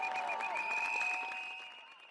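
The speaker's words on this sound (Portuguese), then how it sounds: "molim vas prvo na početku da jednim velikim aplauzom pozdravimo studente i njihovu današnju" A crowd applauds students at a street protest in Belgrade, close clapping mixed with steady shrill whistles, gradually fading toward the end.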